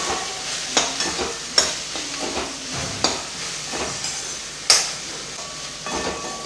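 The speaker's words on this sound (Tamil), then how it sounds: "ஸோ இது கொஞ்சம் நேரம் ஃப்ரை ஆகட்டும்." Okra masala fries in a pan with salt, chilli powder and sambar powder, a soft sizzle broken by regular spoon stirs and scrapes, close and moderately loud with no talking.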